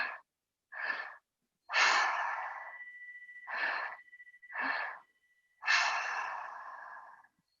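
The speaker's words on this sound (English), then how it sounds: "So don't lose this breath. Stick with your breath." Deep, slow breaths during a moon circle ceremony, six long inhales and exhales with quiet pauses between them, close and alone with no talking.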